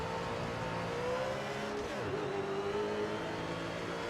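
Race cars in SRX: The Game roar steadily along the track, one engine rising and falling in pitch as it accelerates past amid a constant mechanical drone.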